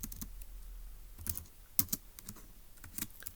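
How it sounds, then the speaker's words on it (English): Scattered keystrokes tapped on a computer keyboard, light clicks in short irregular bursts against a faint steady hum, with no one speaking. "So let's go ahead and type that up in our notes in section B."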